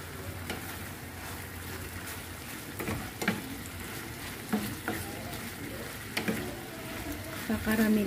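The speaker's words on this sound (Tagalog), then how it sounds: "Kakaramelize muna natin yung asukal natin dyan before natin lagyan ng liquid ingredients pa" Sugar caramelizing in a hot pan while cooking dry adobong manok, a steady close sizzle and frying hiss with occasional stirring scrapes and clicks, under faint talk.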